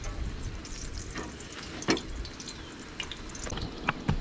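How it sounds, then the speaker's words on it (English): Tortillas shallow frying in oil heated to about 325 degrees at an outdoor camp cookout for chilaquiles verdes, a steady soft sizzle with scattered pops and crackles and no talking. "the key here is we're not going to do a deep fry to these tortillas. We're going to do more of a shallow fry"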